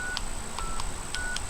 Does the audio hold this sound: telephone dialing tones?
yes